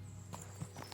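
Horse hooves clip-clopping on a road in the video game Kingdom Come: Deliverance II, a few quiet, soft hoofbeats in quick succession.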